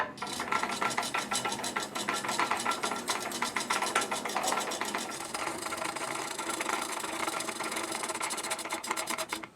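A coil winding machine winds wire for a KIJ-111 ceiling fan, giving a steady, fast rasping whir with a fine rapid texture that runs continuously close up, with no talking.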